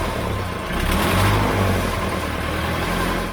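An engine runs and revs after a newly fitted cold start button is used, a loud, close, steady mechanical drone that swells slightly midway and then settles, with no talking.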